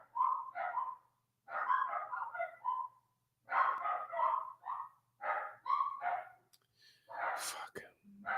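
Several dogs bark in repeated bursts of sharp, yappy barks with short pauses between, close and fairly loud in a quiet room, no talk over them.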